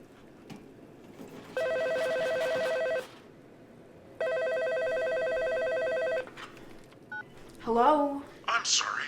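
A telephone number is dialed, giving two long, steady electronic tone bursts separated by a short pause, followed by a person starting to speak.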